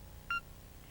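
A single short electronic beep from a telephone answering machine, sounding right after the recorded greeting ends, clean and brief over a faint room hiss.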